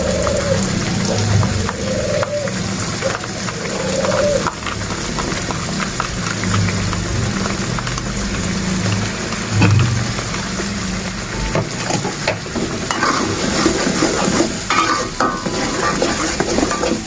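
Spices sauté in a pan until browned, a steady frying sizzle with stirring scrapes and occasional pan knocks running throughout, close and continuous.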